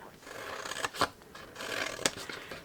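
Scissors cut straight through paper panels for a hand-stamped box, giving a few soft snips and crisp paper rustles close to the mic at low volume.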